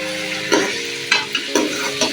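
Chicken pieces fry in a pan over a high flame for a Lahori chicken cholay dish, with a constant loud sizzle and a few scraping stirs every half second or so, no talking.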